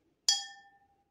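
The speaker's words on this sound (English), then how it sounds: "I'll give you the sound of the notes of each glass" A water-filled drinking glass struck once to sound the note C, giving a clear, bright ring that decays over under a second, close and alone.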